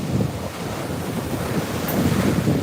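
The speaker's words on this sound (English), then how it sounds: "it is fun to see the waves breaking, coming in" Continuous roar of sea waves breaking and rolling onto a seaweed-strewn shore, broadband and steady with swells of surging surf, heavy wind buffeting the microphone, no voices.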